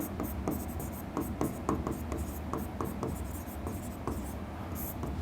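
Marker or chalk strokes scratch across a board in a classroom lesson, a steady run of short rubbing strokes close by with a faint background hum and no talk over them.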